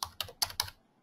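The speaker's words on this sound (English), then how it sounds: "if you type in" Fingers tap a computer keyboard in a quick run of four distinct, close keystrokes, evenly spaced, then a short pause before one more key click.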